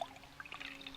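Microbial fertilizer being poured into water makes a brief, soft trickling pour, close up and faint, lasting about a second.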